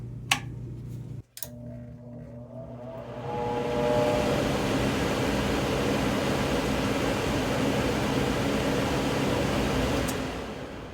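A repaired Rheem air conditioner fan clicks a couple of times, then spins up and settles into a loud, steady whooshing hum with a faint mechanical drone that carries on to the end.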